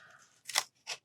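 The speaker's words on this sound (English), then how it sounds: "So the smaller the scissors for fussy cutting, the better for me." Small scissors fussy cutting paper: two quick, crisp snips close to the mic, each a short papery crunch, with a faint rustle just before them.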